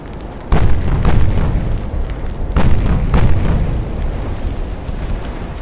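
A shell strikes a warship in Ultimate Admiral: Dreadnoughts, setting a fire in the bow; heavy booming explosions roll out in two big blasts, loud and deep with a rumbling tail.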